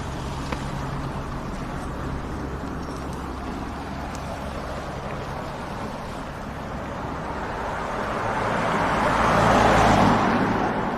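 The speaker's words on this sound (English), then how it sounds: "As a Guinness truck just goes by, packed to capacity with barrel after barrel after barrel" A Guinness truck loaded with stacked beer barrels rolls past on the street, a steady broad traffic rumble that swells louder near the end as it draws closest.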